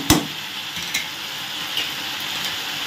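Spices sautéed in a frying pan for a Bengali curry, given a steady soft sizzle with a sharp stirring scrape at the start and a few lighter clinks of the spoon against the pan.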